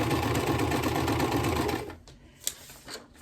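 Sewing machine stitching an ender on a quilt: a rapid, steady mechanical whir that runs for under two seconds, then stops, leaving a few faint clicks and handling noises.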